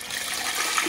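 Water from a jug pours into a large pot for making marmalade, giving a steady, close splashing gush that runs continuously without a break.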